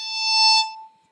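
A single pure, glassy violin natural harmonic, third finger on the E string, rings out briefly, swelling then fading away alone.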